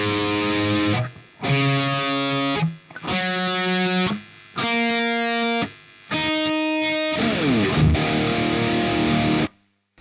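A heavily distorted electric guitar tuned to E flat standard, half a step below standard E, rings out six sustained open-string notes in turn from low to high, each held about a second before a brief gap.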